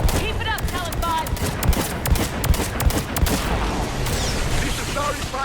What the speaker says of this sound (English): Firing another salvo.